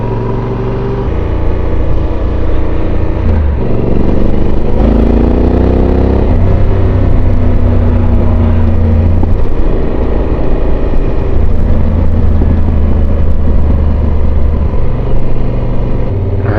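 A motorcycle rolling along a gravel backcountry road, its engine droning loud and steady with shifting pitch as the rider changes speed, joined by constant wind and tire rumble, with no talking.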